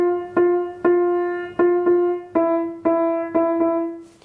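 A piano sounds a single F note over and over, about ten strikes in a steady, slightly uneven rhythm, each note ringing clearly and decaying before the next, close and alone.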